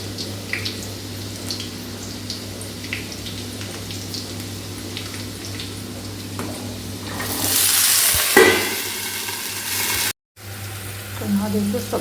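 Eggplant sizzles in oil in a pan on a home stove, a steady low fry with soft stirring scrapes that briefly turn into a louder hiss before cutting out and resuming.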